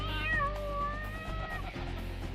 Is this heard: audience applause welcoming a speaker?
no